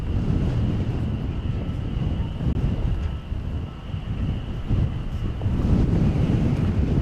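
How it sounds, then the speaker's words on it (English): Strong wind buffets an outdoor microphone weighted with sandbags and a heavy battery while plane spotting at DFW Airport, a continuous loud rumbling roar with gusty swells and no talking. "But that is not stopping the wind from shaking things up."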